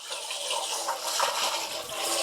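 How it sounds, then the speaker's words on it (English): Water swishing and sloshing as white rice is rinsed in a bowl or pot, a continuous close watery churn with no voice. "I'll just pour some water into it, swish it around"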